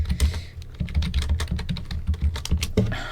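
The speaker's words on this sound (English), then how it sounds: "You're really just typing and everything." Rapid, uneven clatter of keys on a computer keyboard, fairly close and steady for a few seconds, with no voices over it.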